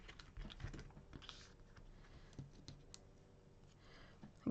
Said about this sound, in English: taking a sharp pair of scissors